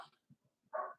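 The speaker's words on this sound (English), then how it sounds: "He usually barks at the cows." A dog barks at cows out in the open: faint scuffles and low thumps first, then one loud, close bark near the end.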